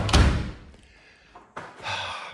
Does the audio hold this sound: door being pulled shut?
yes